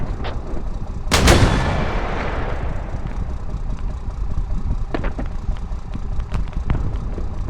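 A squad mortar fires an explosive round in a video game: one loud, booming launch with a long rumbling decay, followed by scattered distant cracks and thuds of gunfire against a constant battlefield rumble.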